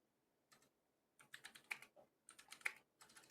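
Keystrokes on a computer keyboard come in quick clustered bursts separated by short pauses, fairly faint and close, with no talking.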